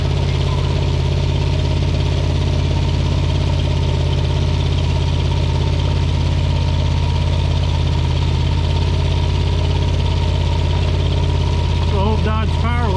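Dodge Power Wagon D200 Adventure truck with a ten-grille front, straining in a tractor pull in Lynden, Washington: a loud, steady engine drone with strong low harmonics, unbroken for the whole stretch, with a faint voice near the end.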